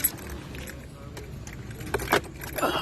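The keys to a Toyota Vitz jangle in a few quick metallic bursts, close and fairly quiet, under low background noise.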